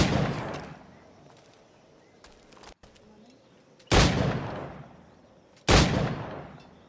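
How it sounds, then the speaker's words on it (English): In Assassin's Creed IV: Black Flag, three sharp gunshots are fired at targets, one right at the start and two more spaced a couple of seconds apart. Each is loud and close, with a short decaying boom over quiet background ambience. "I've shot the targets."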